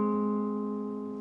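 A guitar chord shape from the intro, slid down one fret along the neck, rings out as a single sustained, steadily fading chord with no talking.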